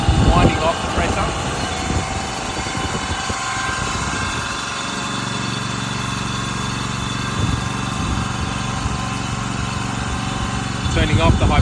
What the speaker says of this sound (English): Turning off the high pressure pump.